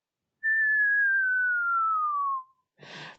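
A person imitates a plastic toy gun's high-pitched whistle, whistling one long sustained tone that slowly glides downward for about two seconds, followed by a short breathy noise.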